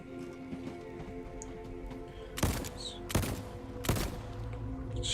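Three sharp gunshots ring out about a second apart while shooting in Voidtrain, standing well clear of a steady low mechanical hum of the moving game world.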